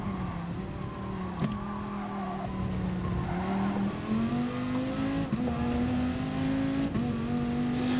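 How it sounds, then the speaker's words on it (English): A race car engine revving out at length, its pitch climbing and dipping in repeated surges with brief breaks between throttle blips, heard up close and steady with no talk. "We'll rev it out a tad more now"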